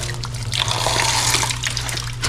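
Water splashes and trickles steadily while tilapia fish are washed, a close, continuous wet rinsing with a low mechanical hum underneath.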